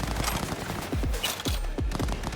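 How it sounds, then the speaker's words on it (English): Gunfire rattles through a firefight in the video game Cyberpunk 2077, rapid overlapping shots with several sharp bursts standing out, loud and sustained throughout. "Who's firing at me?"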